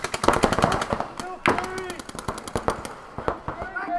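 Paintball markers fire rapid bursts of sharp pops during a professional tournament final, with dense volleys fading into scattered single shots and a few louder cracks, and commentators talking over the shooting.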